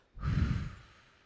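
A single close, breathy exhale during a guided breathing exercise in a church meditation, a soft sighing whoosh of air that swells then fades, heard alone.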